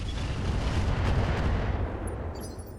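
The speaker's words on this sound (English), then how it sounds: "we're going to start lobbing missiles at the Heliopolis" Missiles launched at a Heliopolis mech in the RogueTech video game, a dense rumbling barrage of blasts and booms that thins out near the end, with small electronic chirps.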